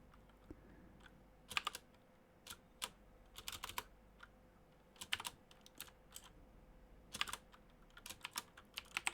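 Someone types code for a simple C# calculator on a computer keyboard. Quiet, close key clicks come in irregular bursts and clusters with short pauses between them, over a faint room hum.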